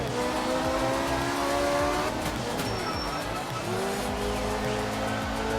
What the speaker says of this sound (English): There we go, little mini inertia drift.